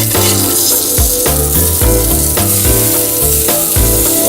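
Food frying in a pan after being flipped, a loud continuous close sizzle with occasional thumps and scraping from stirring or handling, no talking.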